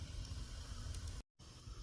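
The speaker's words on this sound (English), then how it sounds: "Still a little steam coming out." Steady close hiss of steam venting from a char cloth tin sitting on a fire, broad and continuous apart from one brief dropout near the end.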